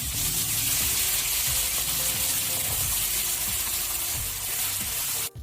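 Crushed ginger, garlic and green chillies sizzle in hot sesame oil for a homemade lemon pickle, a loud, constant frying hiss close by with faint rhythmic stirring scrapes and a brief clunk at the end.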